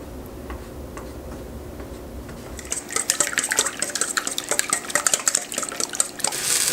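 Sliced potatoes for a Spanish tortilla cook in oil in a pan, starting as a low simmer and then breaking into a dense, close crackle of rapid sizzling pops that keeps building.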